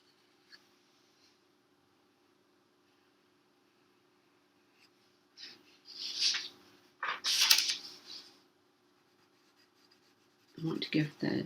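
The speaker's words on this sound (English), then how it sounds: "I can just take my dark pencil and emphasize the part that I want to be part of the finished drawing" A dark pencil scratching across paper in a kids' drawing session, several short scribbling strokes separated by long silent gaps, close and fairly soft.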